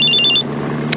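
The tail of a mobile phone ring, a short burst of rapid, bright electronic trills that cuts off sharply, leaving a low steady room hum and a faint click.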